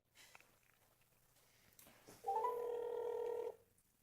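A phone number being dialed: a clear, steady electronic dial tone runs for about a second alone, with faint rustling before it.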